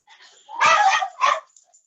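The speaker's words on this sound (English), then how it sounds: "oops, dogs are paying us a visit." Dogs bark in two loud, close bursts, a longer one followed by a short one, with brief quiet between and faint yips at the edges.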